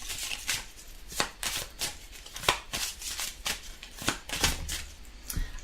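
Tarot cards being shuffled by hand, a series of crisp riffling bursts and soft slaps in an irregular rhythm, close and clear with no talking.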